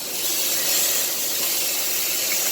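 A steak sears in a hot pan, giving a loud, steady, broadband sizzle that holds evenly throughout, close to the pan with no talk.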